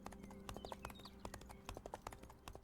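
Zebra horse hooves clip-clopping in the game Chimeraland, a steady run of sharp, evenly spaced hoof strikes over a low constant hum, moderately close and continuous throughout.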